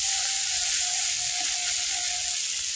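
Spices with salt and turmeric frying and being stirred in a pan, a steady close sizzle with a thin tonal whine running through it and no talking.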